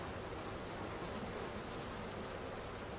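Agitated bees in the survival game Subsistence, a steady dense buzzing swarm that drones loudly and continuously with no pauses or voices.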